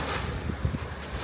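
Waves splash near a New Zealand shoreline with steady wind buffeting the microphone, a continuous rushing wash with a few slightly stronger surges and no talking.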